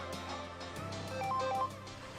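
A phone rings in the early hours of the morning with a short electronic ringtone melody, faint against a low background hum and repeated soft ticks.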